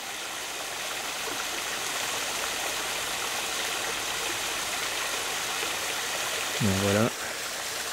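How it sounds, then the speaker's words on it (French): Pure mountain stream water rushing steadily downhill, a constant broadband flow close by, with a brief voice speaking near the end. "C'est de l'eau qui descend directement de la montagne, hein, sans élevage, sans habitation"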